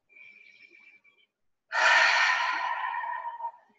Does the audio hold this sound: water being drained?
no